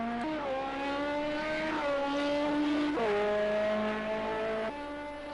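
A race car engine in Project Cars 2 during a Le Mans endurance race, droning steadily at high revs with several shifts in pitch that sound like gear changes, loud and continuous with no voices.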